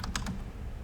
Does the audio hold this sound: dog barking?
no